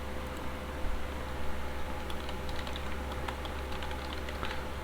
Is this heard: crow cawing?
no